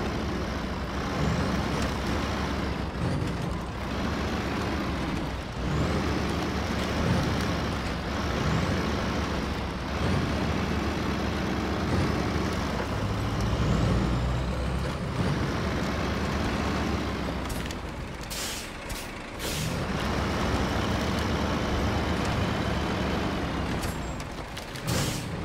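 A heavy off-road truck in SnowRunner on Imandra's terrain grinds along with a continuous diesel rumble, punctuated later by sharp hissing bursts of air brakes, loud and close with no talk.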